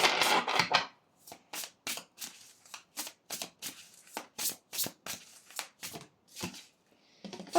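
Oracle cards being shuffled and drawn during a guidance reading: a dense riffle at the start, then a steady run of about fifteen crisp, evenly spaced card snaps and slides, close and clear with no voices.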